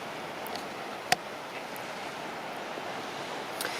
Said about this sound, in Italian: Questa è la spiaggia di Porto Paglietto.